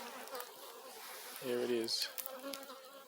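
Bees buzz steadily and close around hives in a new bee yard, a dense hum with a louder pass near the middle and someone speaking briefly over it.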